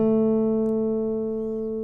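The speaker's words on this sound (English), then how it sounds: "First finger, we're going to count which fret on the chart. 1, 2, 2nd fret. And which string? Your G string." A single guitar note on the G string fretted at the 2nd fret, plucked once and left to ring with a steady sustained tone that slowly fades, close and alone.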